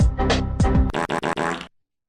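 A loud comedic fart sound effect, a long sputtering blast breaking into several rapid pulses before cutting off, close and alone.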